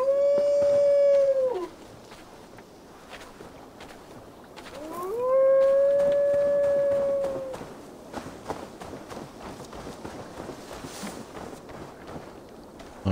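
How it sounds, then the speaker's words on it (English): A wolf in Assassin's Creed Valhalla lets out two long, rising-then-steady howls, loud and close, with a quieter stretch between them and soft ambient game sounds after. "Wolf boy is just howling away."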